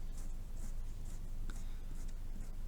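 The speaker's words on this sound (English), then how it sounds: "You could try cross hatching with curved lines" A pen scratches curved cross-hatching lines onto paper in a steady series of short, dry strokes, close and fairly quiet, with no voice.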